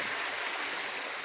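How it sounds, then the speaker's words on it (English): A river by Mabry Mill in Meadows of Dan, Virginia, rushes in a steady broadband hiss of flowing water, close and unbroken for a brief moment. "There's a river."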